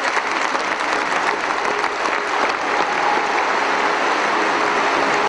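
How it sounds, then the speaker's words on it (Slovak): Sustained, dense applause from mourners at Pavol Demitra's farewell in Trenčín, steady and loud for several seconds with no break, many hands clapping together close by. "S Pavlom Demitrom sa diváci naposledy rozlúčili potleskom."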